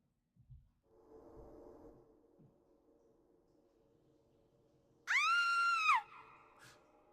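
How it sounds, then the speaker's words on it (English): A single short, high-pitched scream rings out in a Final Fantasy XIV cutscene, lasting about a second and rising sharply above a faint, low background hum and a few soft rustles. "Did someone scream?"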